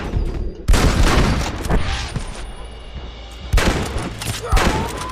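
Rifle gunfire in Red Dead Redemption crackles in several loud bursts of overlapping shots, separated by brief quieter stretches of game ambience.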